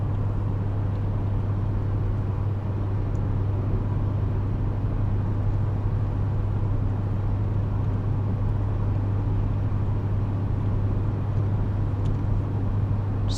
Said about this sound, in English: I wonder if we get the RPMs of the engine.